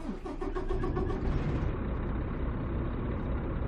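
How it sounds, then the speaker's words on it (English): A Kenworth T680 truck engine in American Truck Simulator cranks and fires, then settles into a loud, steady deep diesel idle rumble close by with no talking. "So let's fire it up."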